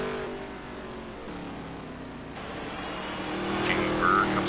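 A NASCAR stock car in the NASCAR Heat 3 racing game drives through the final turn toward the start-finish line, its engine droning and rising in pitch as it accelerates, with a race commentator talking over it.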